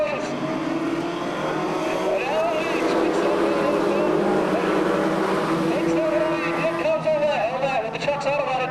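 Stock cars roaring around Seekonk Speedway at the green flag, a loud sustained pack of engines with rising and falling pitches as they pass, under an announcer's talk.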